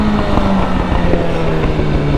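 A motorbike engine revs hard and loud up close under heavy wind rush, with a rough, continuous drone and faint crackling pops throughout.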